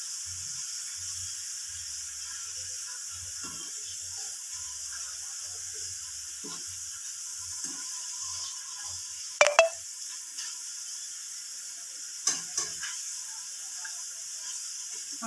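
Thin potato wafers frying in hot oil in a home kitchen, a steady soft sizzle and hiss with a few clinks and scrapes as they are stirred and turned, no talking.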